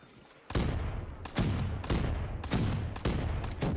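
A powerful gun fires in Black Ops 3 custom Zombies, set at an Old West saloon, with six heavy, booming shots at an even, slightly irregular pace, each followed by a rumbling tail, loud and close without talk.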